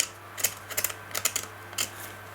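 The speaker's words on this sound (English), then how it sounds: "I'll run a knife cut down there so we don't lose too much of the original topping on this one" Sharp knife scoring through an old red paper topping on a G.M. Angem Regula 25 being serviced, heard as a few quick, close scratchy cuts in uneven bursts over a low steady hum.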